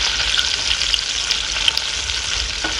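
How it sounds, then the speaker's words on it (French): Already-cooked saucisson slices reheat in a pan, slightly burning, with a loud, continuous close-up sizzle and crackle that holds steady throughout. "Comment nos saucissons sont en train de se cuire."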